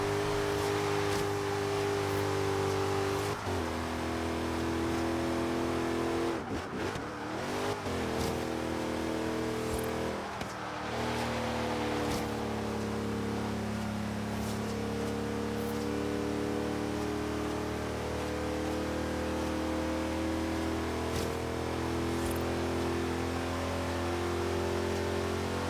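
Car engine in the Forza racing game holding a steady, loud droning note throughout, with pitch shifts as it revs and a brief disturbance partway through.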